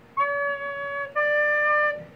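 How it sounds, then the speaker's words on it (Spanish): A recorder (flauta dulce) sounds a clear, pure C sharp note, played twice in a row as two steady sustained tones with a brief break between them, close and alone. "El do sostenido, ahí. Suena así."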